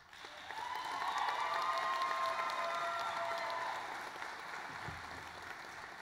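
At a spring university commencement ceremony, a large audience welcomes a speaker with sustained applause and some cheering, a broad steady wash of clapping that slowly fades.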